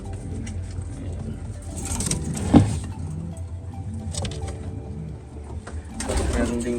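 Pigeons, including young weaned birds such as a blue bar white flight, cooing softly in a loft amid rustling, shuffling and wing movement, with a brief knock and someone speaking over them.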